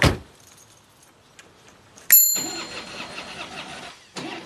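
Car engine, flooded after the keys fell, cranks without catching: a sharp clatter, then a long close whirring crank that fades, a pause, and a second cranking burst starting at the end.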